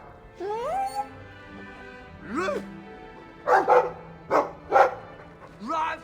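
A dog in the video game Dragon Age 2 gives a run of short barks and yips midway through, with whining, voice-like calls before and after, over a low background hum and some talking.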